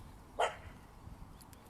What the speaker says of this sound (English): dogs are barking